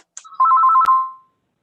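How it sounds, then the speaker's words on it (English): An old telephone rings with a single short electronic warble burst, loud and close, ending with a sharp click and then silence in a meeting room. "That's not your new phone ringing, is it?"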